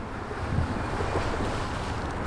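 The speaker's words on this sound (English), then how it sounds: "There's a stream behind me if you haven't noticed that." Steady outdoor rush of a stream flowing beside a trail, broadband and continuous with wind buffeting the microphone, fairly loud and close with no voices over it.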